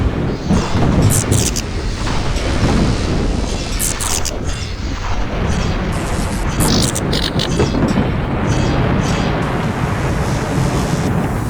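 A Lightning Guardian in a Minecraft mob battle gives off loud, continuous crackling electric zaps with bright bursts over a dense, roaring rumble lasting the whole stretch.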